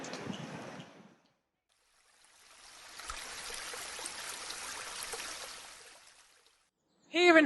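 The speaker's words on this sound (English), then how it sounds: "We have beautiful chalk streams that flow into the River Itchen and Test." A chalk stream in Hampshire flows with a soft, steady trickle of water, faint and alone for a few seconds between brief gaps.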